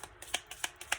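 Oracle cards being shuffled by hand in a short run of soft riffling bursts, about four quick swishes in a steady rhythm, close and quiet with no voice.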